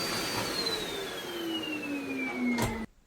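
A household vacuum cleaner runs steadily close by during home cleaning, a loud continuous whine with a slowly falling pitch, then cuts off abruptly near the end.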